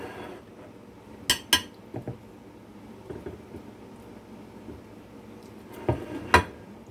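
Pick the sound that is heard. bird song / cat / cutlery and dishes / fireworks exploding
cutlery and dishes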